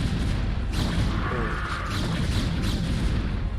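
Photon cannons in StarCraft II fire on Hydralisks amid dense, loud battle noise of booms and crackling shots, with a brief exclamation from a voice over the din.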